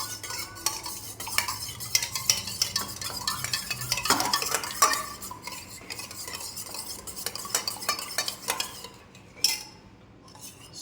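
A utensil repeatedly clinks and scrapes against a bowl or pan while egg omelette mixture is stirred together with boiled eggs, in a steady rhythmic beat with a brief pause near the end.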